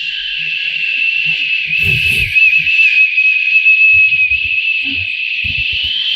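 A long, steady whistling exhale blown through pursed lips as a breathing exercise for lung rehabilitation, held as one continuous loud tone throughout, with faint breath and rustle noises underneath.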